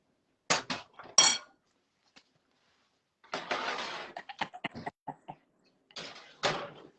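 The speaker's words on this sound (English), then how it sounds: "now throw it in the oven" Baking tray of vegetables slid into a home oven: a few sharp metallic clanks and rattles of the tray and rack, then a burst of scraping and clattering and a final clunk, close by with quiet gaps between.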